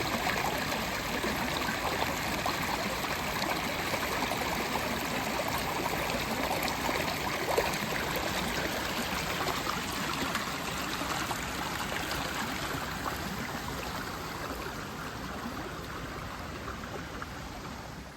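A stream of water flows steadily along a hiking trail in the woods near Oberursel, Frankfurt, a continuous close broadband rush and trickle that holds even from start to finish.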